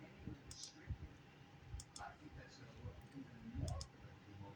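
Scattered light mouse clicks on a web page, several quick soft ticks at irregular spacing under a quiet speaking voice.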